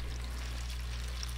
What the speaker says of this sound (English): so that I can just put some water in the bottom of the tray